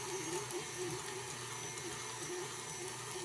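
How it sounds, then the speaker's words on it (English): A stand mixer whips butter into a fluffy frosting base, giving a steady, faint motor whir with a soft rhythmic churning, uninterrupted and even in level. "I'm going to put the butter into the stand mixer, and we're going to fluff this up really well"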